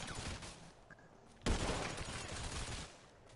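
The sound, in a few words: gunfire in a video game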